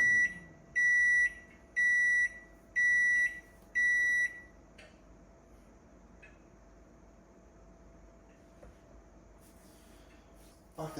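Five loud, evenly spaced electronic beeps from a microwave oven heating a bowl of mixed berries and mango, followed by a steady low hum and quieter kitchen clatter.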